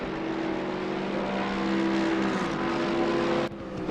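GT3 race cars lapping in a racing video game during qualifying at Spa, a steady high engine drone with shifting pitch, continuous and moderately loud, cutting down near the end.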